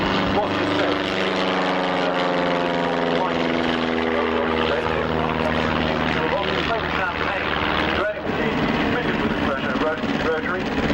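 A World War I era triplane of the Imperial German Air Force with a rotary engine, droning loudly and steadily at an airshow, its engine note sweeping in pitch as it passes, with a public-address voice talking over it.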